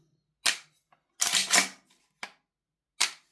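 A Marksman IX AR9 airsoft gas blowback rifle's trigger clicks and mechanism cycles in four crisp, separate snaps, close and loud, with a longer double clack among them and silence between.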